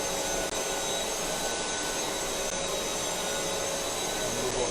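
An AMES FLEX drywall sander runs with its vacuum attached, giving a steady, loud broadband whir that holds without a break throughout.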